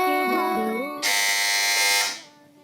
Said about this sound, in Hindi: इस बार सबसे पहले बजर बजाई है टीम बी ने